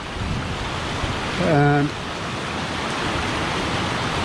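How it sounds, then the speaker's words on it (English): Steady broadband rush of river water pouring over a weir beside stepping stones, a constant outdoor roar with some wind, and a brief spoken word over it. "then onto this river wharf with a weir and stepping stones"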